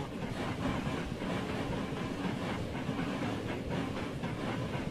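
A steam train runs steadily through the Transport Fever 2 game world, its continuous rolling rumble and hiss of the rail carriages holding at an even level throughout with no voices.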